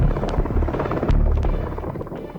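Helicopter during flood rescues in Kentucky, a rapid low rotor chop pulsing steadily and close, slowly fading toward the end, no speech.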